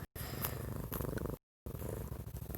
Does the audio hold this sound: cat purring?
yes